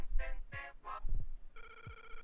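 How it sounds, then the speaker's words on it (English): An 8-bit-style telephone ring, remixed from the Game Boy original, in The Legend of Zelda: Link's Awakening on Nintendo Switch: steady electronic ringing tones rise near the end after a few short chirpy game sounds, with no talking. "they actually do remix the Game Boy version of it, as far as having the 8-bit phone ring"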